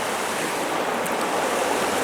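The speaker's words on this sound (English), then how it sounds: "But if I put water on it" Water poured onto a live stonefly, a steady close rushing splash of broadband noise lasting about two seconds with no pauses.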